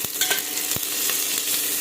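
Meat and onions fry in a pan, with the onions starting to burn: a steady loud sizzle, punctuated by a couple of scraping stirs, close up with no speech.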